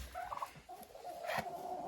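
Turkeys gobbling on a farm, a couple of quick warbling gobbles at close range, one early and one louder about halfway through, with no speech.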